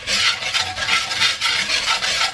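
Garlic stirred in a pot for loaded potato soup, a close, loud rhythmic scraping and rubbing of a utensil against the pot bottom, repeating in even strokes with no voices.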